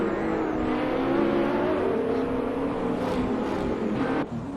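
AI-driven GTR race cars lapping Monza in a racing video game, engines droning loudly and continuously with revs rising and shifting as cars pass.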